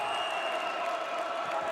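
A steady wash of crowd noise, cheering and chatter, fills a coliseum during an early-morning Nebraska Class C1 state championship volleyball match. The sound is continuous and even, with talk under it.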